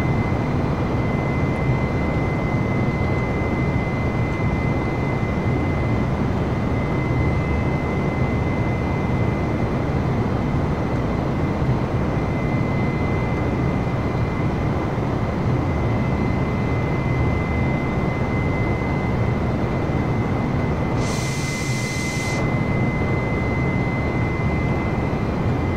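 A steady, unbroken aircraft engine drone from a Microsoft Flight Simulator flight, a dense broadband roar with a thin constant whine on top and a brief brighter hiss near the end.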